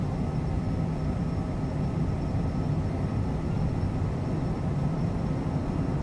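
Cessna Citation CJ4 twin jet engines spooling at full takeoff throttle in a flight simulator, a steady, dense roar with a thin high whine running evenly throughout, no voices.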